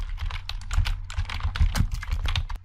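Rapid computer-keyboard typing into a browser search box, a steady run of close, crisp key clicks with brief uneven pauses and no talking.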